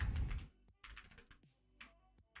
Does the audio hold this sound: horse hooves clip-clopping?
no